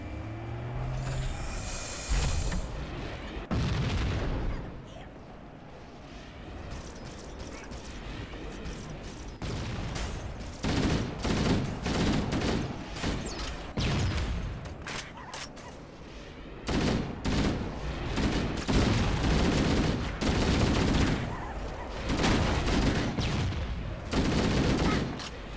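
Tank cannon blasts and bursts of gunfire in Halo: Combat Evolved Anniversary, a dense, loud run of rapid shots and heavy booms with brief lulls between the barrages.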